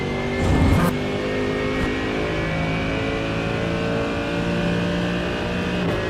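A car engine in a racing simulator game revs hard at full throttle, a loud, sustained droning whine with a brief surge near the start and a steady high pitch that holds to the end.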